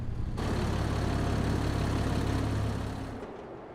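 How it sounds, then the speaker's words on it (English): A tractor engine in the video game Alpine Lake drones at a steady, loud, low idle-like hum for several seconds before cutting off abruptly near the end. "This tractor has a lot more oomph to it."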